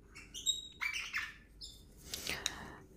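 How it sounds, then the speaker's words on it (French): Small birds chirp and tweet in short bright bursts close to an indoor microphone, with several quick calls in a row and no talk over them. "il y a les oiseaux qui parlent derrière moi"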